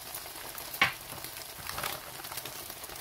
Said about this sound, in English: You pour the egg